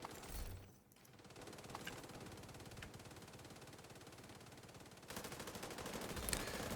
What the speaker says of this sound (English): Gun sounds, oh no, that's a problem.